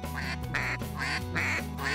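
Short reed goose call, American-made, blown in a run of nasal honks and clucks, a few close, loud notes with brief gaps between them.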